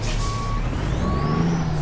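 A truck turning and reversing, with steady electronic reversing beeps over a low rumbling engine and a hiss like an air brake, close and continuous.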